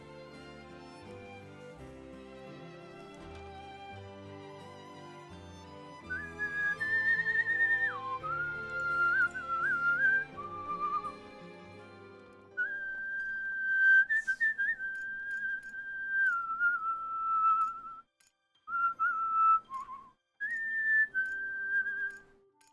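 A person whistles a sustained melody along to Harvestella game music, the tune first over a fuller backing of instruments, then continuing mostly alone with a few short pauses, close and clear.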